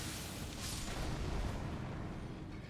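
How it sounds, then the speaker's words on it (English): A rumbling in-game explosion in Elden Ring Reforged: a broad, sustained boom that swells around the middle and fades slowly, fairly loud, with no talking. "the explosion was just short"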